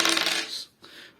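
Three dice tumble and clatter across a table during a Tin Helm board game, a bright rattling burst that settles quickly, then a shorter second skitter as they come to rest.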